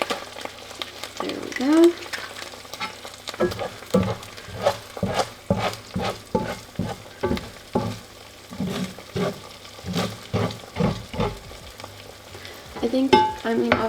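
Eggs fry in a pan with melted cheese, sizzling and splattering in a steady crackle, with repeated sharp scraping taps from a utensil; a voice speaks briefly over the cooking.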